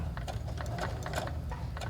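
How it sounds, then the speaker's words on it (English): Domestic sewing machine stitching forward through fabric for a dog bandana, a quick steady mechanical clatter of needle strokes, close and alone. "I'm going to sew forward a few stitches"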